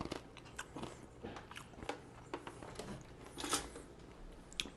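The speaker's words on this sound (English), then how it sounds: "I do apologize for the chewing" Close, crunchy chewing on protein granola, with irregular bites and crackly crunches spread through the moment, and no talking.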